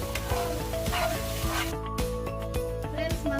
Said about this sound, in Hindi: हमारा मसाला पूरा भून चुका है।